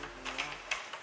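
Addi Express knitting machine crank turned steadily during cast-on, a quiet mechanical clicking and ticking with a few sharper clacks over about a second, no talking.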